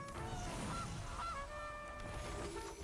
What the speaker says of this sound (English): A goose!